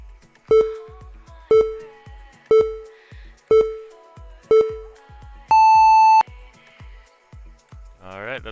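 A race timer at a street league drone race gives five short sharp beeps about a second apart, then a longer, higher sustained tone signals the start, with faint background voices.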